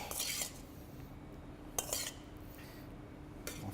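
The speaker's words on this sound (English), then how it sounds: "I'm going to gently fold it through the mix" Diced tofu folded gently by spoon through a vegetable pie filling in a bowl, giving a few soft scraping and stirring bursts at intervals, quiet and close with lulls between.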